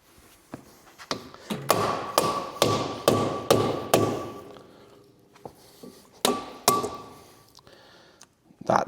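Hammer blows drive the front hub bearing out of a Ford 7740 tractor: a run of sharp metallic strikes, closely spaced and loud, then a pause and a second short burst of hits, with a little quiet talk between them.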